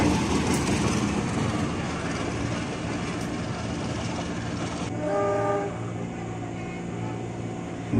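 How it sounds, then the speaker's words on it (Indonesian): A locomotive passes near an Indonesian commuter electric train between Depok and Jatinegara, heading toward Tanjung Priok, with loud rumbling rail noise and a brief horn blast partway through, then a quieter steady hum. "Weh, ada lokomotif tuh mengarah ke Tanjung Priok."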